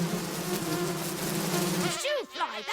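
Buzzing wasp sound effect released into a podcast studio, a steady droning hum for about two seconds that cuts off abruptly, followed by a few swooping tones.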